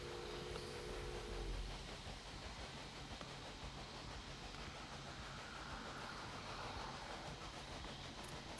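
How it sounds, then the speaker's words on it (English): Train rolling along the tracks in the railway management game Railway Empire, a steady rumbling run of wagons with faint clatter and hiss, continuous and moderately loud throughout, with no talk. "We'll let this train go."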